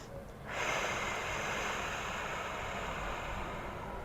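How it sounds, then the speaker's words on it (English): A long, deep breath taken during a yoga pose: a sudden airy inhale that swells and holds steady for several seconds, close and alone. "Take a deep breath here."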